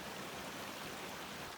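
A creek flows beside a road on a chilly trail toward Pikes Peak in Colorado, a steady close rushing wash of water that stays even and unbroken throughout.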